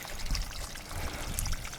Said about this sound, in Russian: Так, сливаем воду.